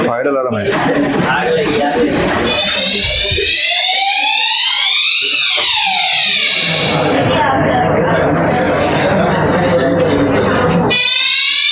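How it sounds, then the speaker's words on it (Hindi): A classroom fire alarm rings loudly and continuously, a harsh electronic tone that rises and falls, with a teacher's voice and room noise briefly heard before it takes over. "फायर अलार्म है।"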